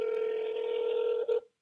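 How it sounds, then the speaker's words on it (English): A steady, loud electronic telephone tone holds for over a second, then a short second beep cuts off as a call is placed to someone. "Calling him right now."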